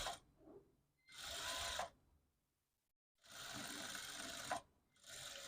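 A sewing machine stitches a half-inch seam on a girl's langa voni (lehenga) blouse in three separate bursts of rapid whirring, each lasting about a second, with quiet gaps between them.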